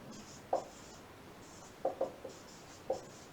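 Handwriting with a pen, a few short, close scratchy strokes spaced irregularly over a faint hiss, with no voice.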